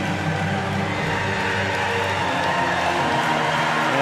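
A huge crowd at a Para cycling track event in Tokyo cheers and applauds a champion cyclist, a steady, dense roar of voices and clapping holding at an even level throughout.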